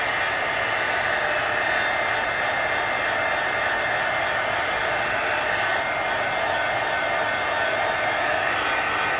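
A hair dryer blowing on wet paint on an altered book page: a constant, close, loud airy roar that holds level the whole time without pauses or speech.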